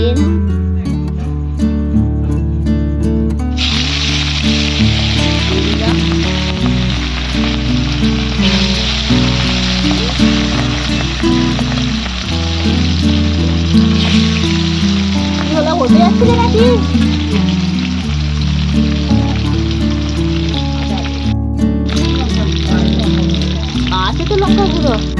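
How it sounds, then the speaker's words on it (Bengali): Hilsa fish pieces fry in hot oil in a wok, giving a continuous loud sizzle and spatter that lasts throughout, with a person talking over it. "আর এই দেখুন ইলিশ মাছটা এবার দিয়ে দেবো কড়ার মধ্যে।"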